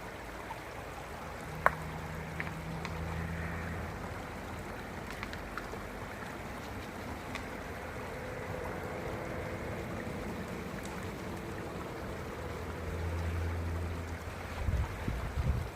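A river flows steadily at a gold-mining spot, a soft continuous wash of moving water with faint low rumbles and occasional small knocks, fairly quiet throughout.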